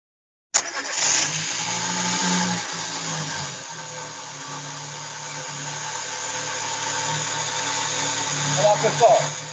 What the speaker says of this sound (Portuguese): eu vou funcionar o veículo